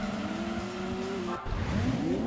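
A Plymouth Hemi Cuda muscle car in Gran Turismo 2 drones along with a steady engine tone, then shifts up and climbs again, with a brief tire squeal.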